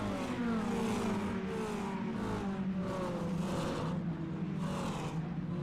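Mini stock race cars in an iRacing league run lap, several engines whining and revving together in a steady, droning pack, with the pitch rising and falling as the cars pass.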